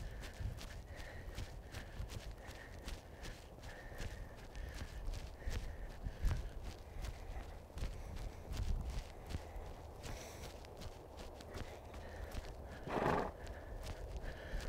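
A horse in a big posting trot during a dressage schooling session gives off soft, continuous rhythmic hoofbeats at a moderate distance over steady background noise, with a brief brighter sound near the end.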